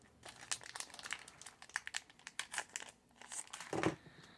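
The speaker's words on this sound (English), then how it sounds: "actually know how to open these packs of cards" Pokémon card booster packs being torn open, close crinkling and crackling of foil wrappers in quick irregular bursts, ending in a louder crumple.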